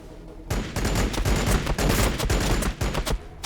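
Rapid bursts of gunfire from units shooting in the Warhammer 40k game Battlesector, Blood Angels campaign, a dense, loud fusillade of overlapping shots that starts abruptly and continues alone with no talk.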